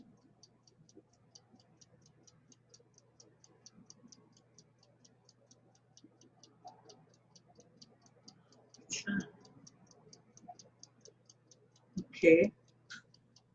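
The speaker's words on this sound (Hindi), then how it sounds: "आवाज आ रही है आप लोगों को टिक टिक की?" Faint, steady clock ticking runs under the whole stretch at a regular even pace, with a soft hum beneath, a short spoken word and a couple of louder knocks or handling sounds near the end.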